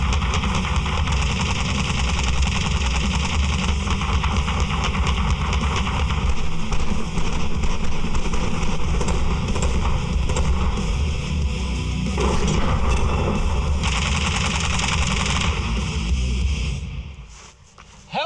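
Sustained live-ammunition gunfire in a loud, dense wall of rapid shots and reports with no gaps, dropping away into near silence near the end.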